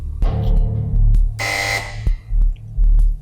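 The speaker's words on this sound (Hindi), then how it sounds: "आपने बजर दबा दिया" A game show buzzer is pressed on a quiz set, giving one loud, harsh buzzing blast lasting about half a second amid a rhythmic throbbing low hum.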